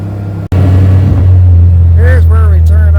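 A small off-road quad that isn't street legal drives along a back road near Yosemite, its engine holding a steady low drone after a brief cutout, with a few rising whines as it revs.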